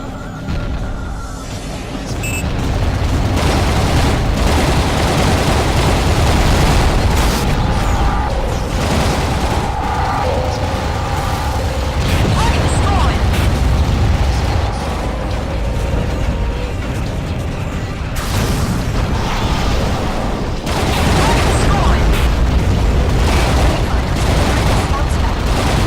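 Dense battle noise from the Aqua Nox video game: continuous gunfire and booming explosions, loud and sustained throughout.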